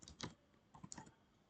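Typing on a computer keyboard: two short clusters of quick, light key clicks, close and fairly quiet, separated by a brief pause, with no voice.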